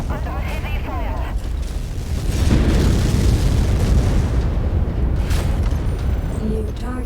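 A destroyed mech blows up in MechWarrior 5: Mercenaries, a loud, sustained rumbling blast of broadband noise that swells midway and lingers under a voice calling out combat status.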